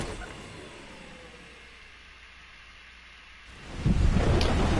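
Thunderstorm in the game Death Stranding: a low hiss like steady rain and wind holds for a few seconds, then a loud, deep rumble of thunder swells up and continues to the end.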